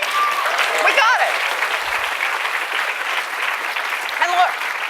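Audience applause at a public speaking event, sustained dense clapping from a large crowd throughout, loud and even, with faint voices cheering over it.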